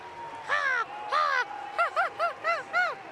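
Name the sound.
child imitating an American crow call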